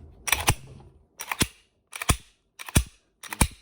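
The slide of a Polymer 80 Glock 17/19 pistol is worked and locks back five times, each one a sharp metallic clack with a short rattle before it, close and loud with quiet gaps between.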